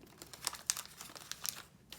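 Recycled magazine paper being crinkled and pinched into a flower shape: faint, close, crisp rustles and crackles in short irregular bursts with brief quiet gaps.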